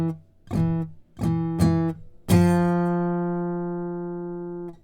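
Guitar note at the 3rd fret of the D string with the other strings muted: four plucks, the first three short and clipped, the last left ringing and slowly fading. Nearby, with no talking.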